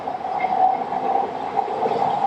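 A train passes by during the morning rush hour, a steady close rumble with a grinding metallic hum carrying throughout, with no talking.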